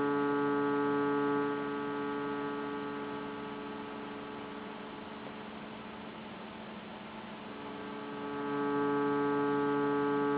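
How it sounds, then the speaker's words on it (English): A Serge modular synthesizer plays a sustained sawtooth wave, a buzzy steady drone rich in evenly stacked overtones, dipping in brightness and level midway before swelling back, heard alone without talk. "That is the sawtooth coming in."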